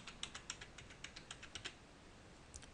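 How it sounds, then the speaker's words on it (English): Someone types a password on a computer keyboard: about a dozen quick, soft key clicks in an even run, then a pause and two final taps. The clicks are close but faint, with no talking. "now I just type my password in"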